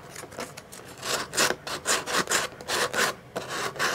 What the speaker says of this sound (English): I could use that to just sand,